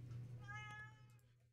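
A cat named Yoshimi lets out a single drawn-out, tonal meow up close, fading at the end, with no talk over it.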